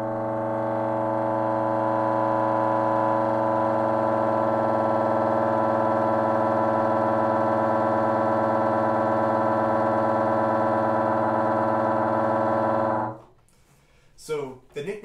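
A bassoon sustains a B-flat right hand three multiphonic as one steady, dense chord-like tone for about thirteen seconds. It then cuts off into a few brief, quieter noises.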